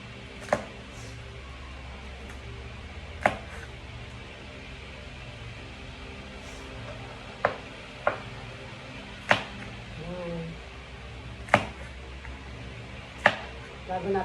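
A knife chops vegetables on a board in sharp, isolated knocks spaced a couple of seconds apart, over a steady background hum in a home kitchen.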